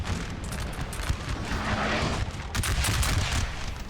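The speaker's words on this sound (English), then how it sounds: "A good shot from the red team's artillery." Artillery booms and gunfire from Napoleon Total War: a dense, continuous rumble of distant cannon and musket shots with sharper bursts and a heavier blast partway through, loud and with no voices.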